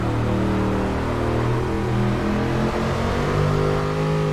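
A 1964 Impala in a video game accelerating hard, its engine droning loud and steady with rising and shifting harmonic tones as the revs climb, heard alone without any talk.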